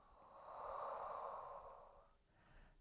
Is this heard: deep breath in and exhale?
yes